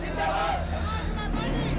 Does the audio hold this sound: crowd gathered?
yes